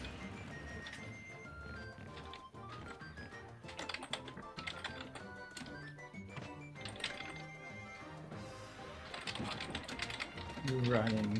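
Quick bursts of typing on a computer keyboard during a Street Fighter-style coaching session, soft clicks running in uneven clusters beneath game sounds and a talking voice.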